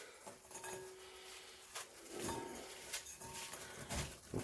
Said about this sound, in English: I'm going to take my digestive biscuits and just crumble them into a bowl